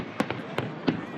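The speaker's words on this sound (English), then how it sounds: "But even those who think it's all a little much were treated to a free fireworks display to cap it all off." Fireworks display bursting in three or four sharp booming cracks at a distance, spaced irregularly over a steady background rumble of a crowd.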